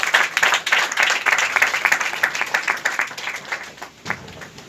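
A church congregation at a Sunday service breaks into dense, sustained applause, many hands clapping at once and close by, the clapping thinning slightly toward the end.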